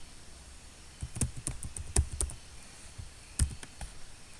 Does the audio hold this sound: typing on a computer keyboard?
yes